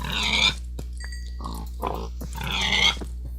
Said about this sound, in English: And these pigs are kind of just stuck here, so we'll help them out.